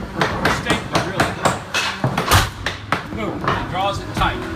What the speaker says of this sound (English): That's a floor stapler